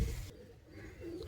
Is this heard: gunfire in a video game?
no